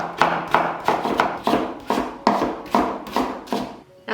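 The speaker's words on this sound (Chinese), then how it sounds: "刨去皮了之后呢，我们再给它切成细丝。" A kitchen knife slices a peeled white radish into thin shreds, giving about ten crisp, evenly spaced chops on a cutting board at close range, with no voice.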